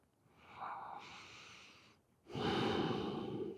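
Slow, deep breaths during yoga, a long airy inhale followed by a short pause and a louder, rushing exhale, close and clear with no talking.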